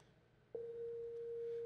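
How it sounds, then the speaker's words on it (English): A single synthesized sine wave tone with a long release starts abruptly and then holds steady as one clean, sustained pitch, moderately loud over a faint background hiss, with no voices. "That's just a sine wave. It's the simplest form of sound you can create."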